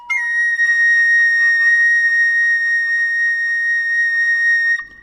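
A shrill, piercing overblown B flat on a recorder, held steady for several seconds, pure and whistle-like with a slight waver, then stopping abruptly.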